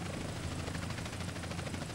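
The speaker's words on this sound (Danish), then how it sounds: "Mathias sidder og styrer helikopteren, og jeg sidder på bagsædet." A helicopter in GTA San Andreas Multiplayer whirs with a steady, loud rotor thrum and engine drone, a continuous close chopping pulse that never lets up, with no voices over it.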